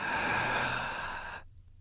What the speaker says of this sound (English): For 2 minutes, I want you to take deep breaths.